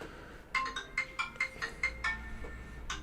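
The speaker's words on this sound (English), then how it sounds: "That's my wife's phone." A mobile phone ringtone chirps in a quick series of bright electronic pulses, moderately close and alone, with a short gap before another burst starts.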